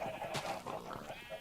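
Sheep bleat repeatedly in a video game farm pen, several overlapping wavering calls close by, filling the short moment with no talk.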